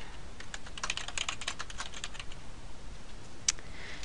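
Rapid typing on a computer keyboard to enter new user details, a steady patter of close key clicks with one louder key strike near the end, and no speech.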